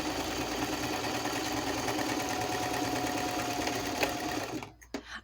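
A sewing machine runs a straight stitch with cream thread, a steady fast mechanical whir and rattle lasting several seconds before stopping, followed by faint handling noise.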